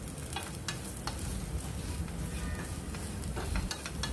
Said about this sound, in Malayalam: ഇനി ഇതൊന്ന് ചേർത്തിട്ട് നന്നായിട്ട് മിക്സ് ചെയ്തിട്ട് ഒന്ന് ചെറുതായിട്ടൊന്ന് ഫ്രൈ ചെയ്തെടുത്താൽ മാത്രം മതി